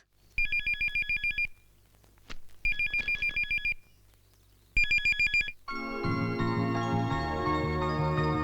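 Electronic beeping alert from a pager in a family home, three bursts of rapid repeating tones separated by short pauses, then a louder sustained tonal ringing at the end. No one speaks.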